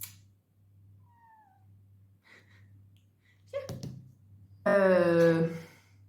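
A pet cat named Titi lets out a loud, drawn-out meow near the end, after a soft thump from a jump onto a table and a few faint earlier chirps in a quiet room.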